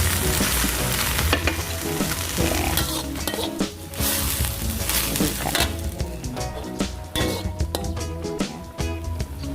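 Fish fries loudly in a pan while a utensil stirs and scrapes, a dense crackling sizzle with repeated metallic clinks and knocks close by, and no one speaking.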